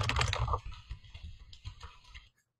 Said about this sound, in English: And if you can see, I'm typing down at the bottom.